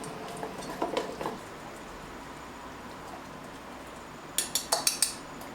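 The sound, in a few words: stirring a fatty paste mixture with utensils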